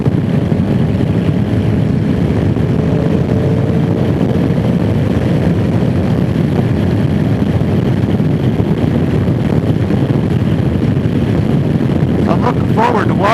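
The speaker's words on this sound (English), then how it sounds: "This is my noisiest bike, and I have all kinds of wind noise in this helmet" Loud, steady wind roar buffeting a motorcycle rider's helmet while riding on the noisiest bike, with engine drone beneath and no pauses.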